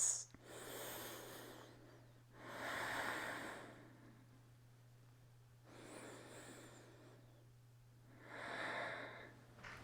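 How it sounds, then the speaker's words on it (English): Two slow, deep breaths during a morning stretching routine, each a long audible inhale and exhale, close and fairly quiet over a faint steady hum. "Take 2 breaths."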